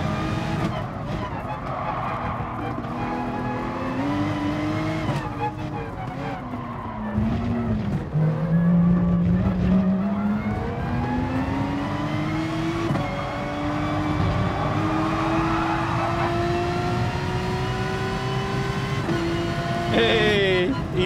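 Race car in GT Sport revs loudly and continuously, its engine pitch climbing through gears with dips at shifts and tyre skids along the way, with a voice talking at times over the engine.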